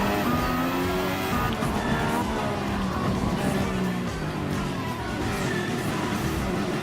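Race cars including a silver Mercedes AMG F1 car in Gran Turismo Sport, engines droning loudly and continuously with shifting pitch as cars run close together, a brief tire squeal in places.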